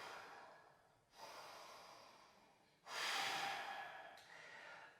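Someone holding a plank pose in yoga breathes deeply, with a couple of soft inhales followed by a louder, rushing exhale, close and without talk.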